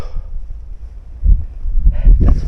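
Gusts of wind on the summit of Mount Arjuno, rumbling low and buffeting the microphone in uneven surges that swell louder in the second half, alone without talk.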